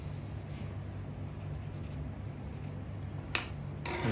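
Light rubbing of an eraser over pencil lines on a tooth drawing, a faint, close, steady scratchy friction that runs on, ending with a couple of sharp little ticks.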